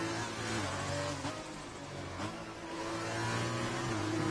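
A racing car engine in an F2 esports game on the Monaco circuit pulls away after a spin, its loud revving note stepping up through gear changes and climbing in pitch.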